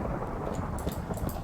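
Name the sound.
thunder from lightning in the video game Minecraft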